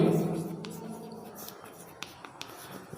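A teacher writes on a board during a chemistry lesson on the periodic table, with scratchy strokes and light taps after a brief voice at the start, all at close range.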